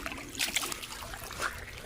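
River water sloshes and trickles over an iron-bearing agate rock as it is rinsed on the Coosa River, in close, uneven splashes with a brief louder burst.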